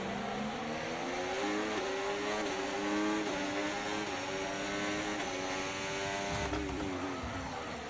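Formula 1 race cars in the F1 24 racing game roar at high revs, several engine notes climbing and shifting together in a continuous loud drone, with a brief deeper rumble near the end.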